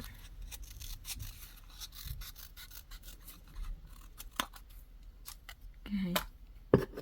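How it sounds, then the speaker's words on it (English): Scissors snip through crochet kit material from a Dollar Tree craft set in a few quick, sharp cuts close by, spaced irregularly under soft rustling and a voice talking. "Just doing a quick cut."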